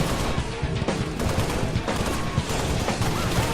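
Shotgun fire in Halo Reach during a zombie Machinima, dense overlapping blasts of gunfire running continuously and loudly through the whole stretch, with no voices.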